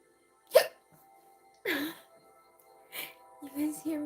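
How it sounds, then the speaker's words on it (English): A woman's hiccups come in short isolated bursts indoors, fairly close and soft, a few spaced across a few seconds with quiet gaps between them. "You guys hear me hiccup?"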